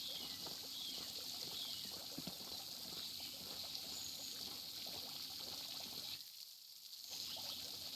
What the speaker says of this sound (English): Interesting how the water runs.